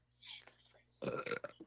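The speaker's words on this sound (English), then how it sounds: "Sorry, I had to burp." A single low, rumbling burp rolls out loudly near the microphone after a second of soft whispery breathing.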